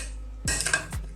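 Chicken macaroni pasta salad is stirred in a bowl, producing a couple of close, sharp utensil clinks and scrapes against the dish.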